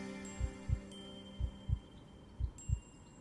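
A panicked heartbeat pounds in a lonely horror video game, three paired low thumps in an uneven rhythm over a faint steady hum and high tones.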